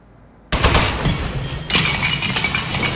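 Sustained automatic turret gunfire in the video game Aperture Desk Job, bursting in loud after a quiet lead-in and swelling harsher partway through, a dense continuous rattle with no talk.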